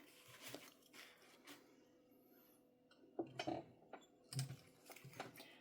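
A sewing machine's flywheel is turned by hand to lower the needle while sewing a mini backpack, giving soft mechanical clicks and ratcheting ticks in short, irregular bursts, close and quiet, with no voices.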